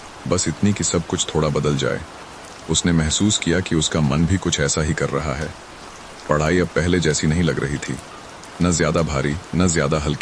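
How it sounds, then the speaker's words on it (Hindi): Light, steady rain falls outside, a soft continuous patter that carries on beneath a voice narrating and is heard alone in the pauses. "बाहर बारिश की आवाज़ अब साफ सुनाई दे रही थी।"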